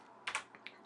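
A few sharp keystrokes on a CM Storm Quick Fire XTi mechanical keyboard, two close clacks followed by two lighter taps, alone in a quiet room.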